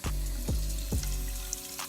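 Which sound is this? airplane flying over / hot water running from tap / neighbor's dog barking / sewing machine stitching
hot water running from tap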